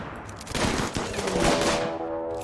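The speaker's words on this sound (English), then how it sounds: "they're about to nuke the Mountain of Gold. There we go. I'm watching the Doomsday Launchers" Doomsday rocket launchers in the video game RimWorld fire a dense volley of explosive cracks that settle into a rumbling, ringing roar and then fade.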